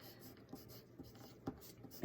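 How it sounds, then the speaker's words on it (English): A pen scratches a name onto paper in short, faint strokes, with soft taps and scrapes spaced across a quiet room. "I'm going to write my name on the back so that I do not forget"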